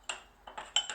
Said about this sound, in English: Kind of do a little bit of stirring as I go.